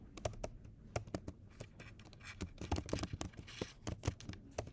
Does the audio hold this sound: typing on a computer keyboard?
yes